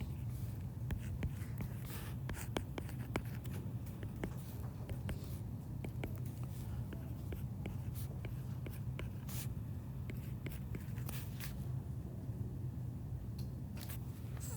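Pen or pencil scratching across paper while trig functions are written out, irregular ticks and strokes close by over a steady low background hum.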